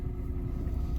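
A red Ferrari driven fast on the way home, a steady, loud low engine drone from inside the car holding an even level for the full second, with no voices.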